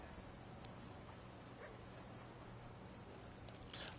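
A dog in The Thaumaturge video game gives soft, brief whimpers and yips over a steady, dense background of game ambience, faint and intermittent rather than loud barking.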